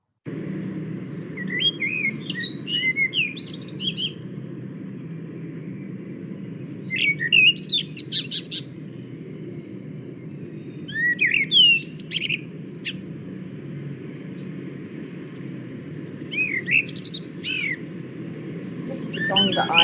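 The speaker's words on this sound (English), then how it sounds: "This is the song that I associate with spring and summer evenings, with blackbirds sat on the top of your fence or on a chimney pot" Common blackbird sings in repeated short phrases of fluting notes and chirps, spaced several seconds apart over a steady low background hum, clear and moderately near.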